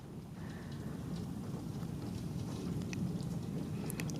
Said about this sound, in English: Got a lot of rain, wind this time.